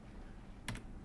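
A single quick keyboard arrow-key press, a faint double click near the end of a soft, quiet room background.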